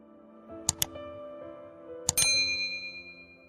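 A bright notification bell sounds two quick chimes, then after a pause two more, the last ringing out and slowly fading over a low sustained tone, clear and close with no talking.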